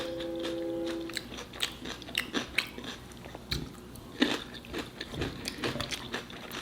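Someone bites and chews a spicy homemade smoked BBQ burger up close, with repeated soft crunching and wet mastication sounds in an irregular rhythm, alone without talk.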